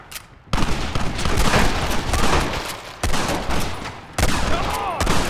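Dense gunfire from a Red Dead Redemption gunfight, rapid overlapping rifle and pistol shots crackling in sustained bursts with brief gaps, loud and close, with faint shouting mixed in.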